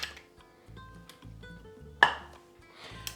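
Mussels being served into a little bowl, with light clinks of shells and utensil against the dish and one sharper ping, close and moderately quiet over a low background hum, no talking.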